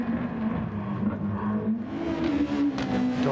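A race car engine in Gran Turismo Sport revs hard and steadily, its droning tone climbing in pitch partway through, loud and continuous with no voices.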